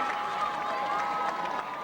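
A Haslett high school football crowd cheers during a game, a dense sustained roar of many voices in a steady wash over the short stretch.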